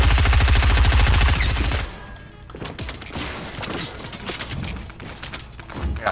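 Rapid automatic gunfire in a duos battle-royale video game, a loud sustained burst for about two seconds, then scattered shots, impacts and game noise continuing at lower level.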